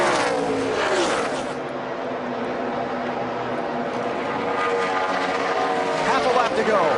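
NASCAR race cars howl around the Chicagoland oval in the 2012 Geico 400, loud engines sweeping past with rising and falling pitch, under a commentator's talk.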